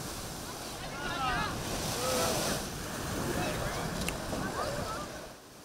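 Sea waves surge and wash onto a busy summer beach where swimmers ride tubes, a loud, continuous rolling surf with wind noise swelling and easing, and a voice speaking over it.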